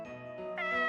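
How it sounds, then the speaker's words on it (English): A cat in the horror video game Corpse Party: Book of Shadows gives a single drawn-out meow that rises in pitch and loudness, heard alone. "Oh, of course it's the cat, goddamn cat"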